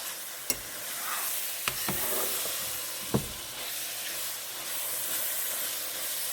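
Tomato paste sizzles steadily in a pan while shepherd's pie is being cooked, a constant soft hiss broken by a few sharp clicks and scrapes of stirring.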